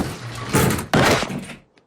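A door is slammed hard as a woman is thrown out of Glenn Quagmire's place, giving two loud, close thuds in quick succession with a brief rattle before the sound falls away.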